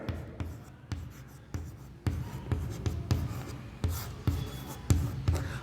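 Chalk or marker writing a reaction rate equation on a board in a chemistry class, close scratchy strokes in a steady irregular rhythm with taps between them and no clear speech.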